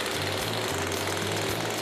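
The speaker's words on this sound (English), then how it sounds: "Kind of nervous with Flash making all these cuts on the chainsaw" A chainsaw cutting through lumber, a loud, dense engine roar with rough buzzing grinding throughout, close up and continuous with no pause.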